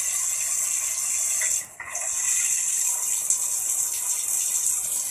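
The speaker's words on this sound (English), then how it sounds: "Now look how it looks when it comes out of the shower." Thin, steady hiss of weak water flow from a low-flow hotel shower, running close and continuous with one brief dip partway through.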